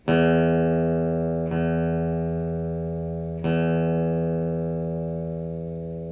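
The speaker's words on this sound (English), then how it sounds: "And your sixth string, your low E." A low E string on a guitar rings out during tuning, plucked three times, each note sustaining and slowly fading.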